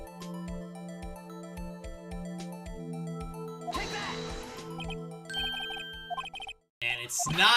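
A cell phone ringtone chimes in the video game Phoenix Wright: Ace Attorney, a short repeating electronic ring over looping game music, with people talking nearby.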